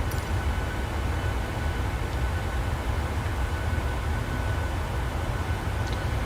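Steady broadband cabin hum of a PMDG 737-700 airliner in Microsoft Flight Simulator, a constant engine and air-noise drone with no talk and no change in level.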